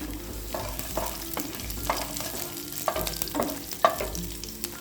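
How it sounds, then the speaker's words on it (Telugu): Garlic, dried red chillies and tempering seeds fry in hot oil in a kadai, giving a steady close sizzle with repeated stirring scrapes every second or so. "ఇప్పుడు కడాయిలో ఆయిల్ వేసుకుని తాలింపు గింజలు 2 ఎండుమిరపకాయలు వేసి వేయించుకుని అందులోకి కట్ చేసిన వెల్లుల్లి వేస్తున్నాను"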